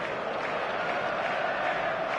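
Stadium crowd in the football video game eFootball 2026 makes a steady, distant-sounding roar, an even wash of massed voices with no distinct claps or chants.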